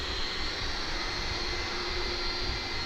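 An Airbus A300 jet taxies after landing at Dallas/Fort Worth airport, its engines giving a steady, fairly loud whining roar that holds throughout, with no voices.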